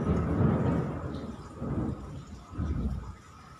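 Loud, deep thunder rolls in heavy rumbling waves, swelling and fading several times in quick succession with no voices.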